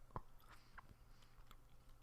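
Chewing on bubble gum, close and quiet, with one sharp crunching bite near the start followed by a few soft, scattered mouth clicks in an otherwise hushed room.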